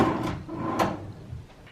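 A wooden dresser drawer in a hotel room at Disney's Grand Floridian Resort slides open or shut, giving two short, close, muffled wooden knocks and scrapes with quiet room tone between them.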